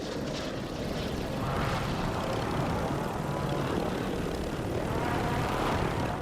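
Helicopter in the video game Warzone, a steady loud rotor and engine drone that holds throughout the stretch and stays close.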